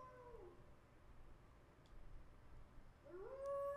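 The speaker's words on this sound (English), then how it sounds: "The howling brings on a headache." Howling from the video game Tsukihime: faint tones near the start, then a rising, sustained wail near the end that grows louder over a low hum, with no talking.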